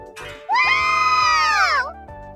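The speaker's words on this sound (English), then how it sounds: "I can hear some girls screaming off in the distance." Girls scream from a distance in a shrill, sustained high-pitched burst lasting over a second, rising and falling in pitch, with quieter background sound before and after.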